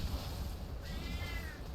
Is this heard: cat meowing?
yes